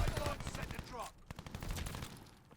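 Rapid bursts of submachine gun fire from the Marco 5 SMG in Call of Duty, loud and close, shots rattling in quick strings with brief gaps, a voice faintly underneath.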